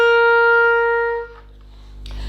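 Low note C on a wind instrument, held as a single clear steady tone for about a second before fading, with a soft breath noise and a light click at the end.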